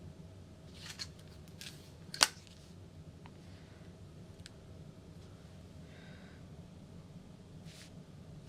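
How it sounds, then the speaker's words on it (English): A 10 by 2 inch fabric overlay for a mini handbag is being cut with scissors, giving a few faint, scattered snips and one sharper crisp cut in an otherwise quiet room. "So I'm going to cut a 10 by 2 inch overlay."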